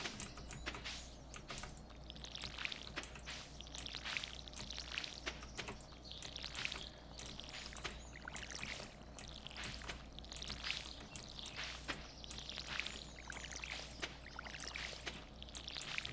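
Watering parsnip crops in the farming game Stardew Valley produces a steady series of soft splashing pours, repeating every second or so at moderate, even loudness, alone without talk.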